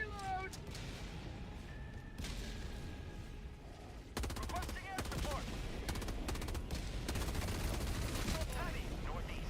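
Turret gunfire in Helldivers 2, rapid bursts and heavy repeated shots mixed with explosions and game effects, dense and continuous, with a voice briefly talking over the din.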